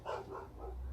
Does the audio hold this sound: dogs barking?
yes